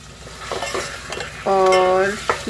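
Onions with ginger-garlic paste stirred in a pan for kaleji salan, a steady sizzle with scraping spoon strokes and a louder burst of frying midway, close and with no talk.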